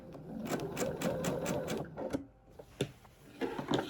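A sewing machine stitches steadily while echo-quilting around clover shapes on a table runner, running in rapid bursts with brief pauses as the fabric is turned, close and fairly loud.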